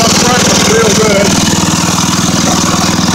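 A 7 hp Briggs & Stratton engine on a riding mower runs loud and close at a steady idle, a throbbing, even chug throughout, with a voice talking over it.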